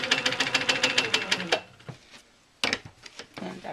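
A sewing machine stitches in the ditch on a quilt block, a fast run of rapid mechanical needle strokes, then a pause and a second short burst, close and clear.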